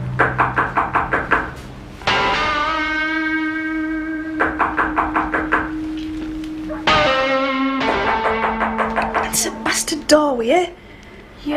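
Repeated rhythmic knocking on a door in a TV drama scene, bursts of sharp raps coming close together, then pausing while a bright bell-like ringing tone sustains between them, with voices heard near the end.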